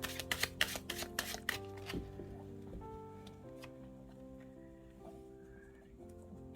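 Tarot cards shuffled and laid out in a quick run of crisp riffles and slaps, close and fairly quiet, followed by softer handling of the cards.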